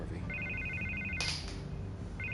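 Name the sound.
telephone ringing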